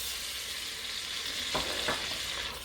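Andouille Cajun sausage sizzles in a pot, making a steady, loud frying hiss with a couple of brief clatters as the pieces are stirred.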